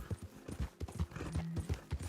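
Hooves clop at a quick trot in a video game, with a horse's short whinny in the middle and a faint voice underneath.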